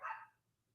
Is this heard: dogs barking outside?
yes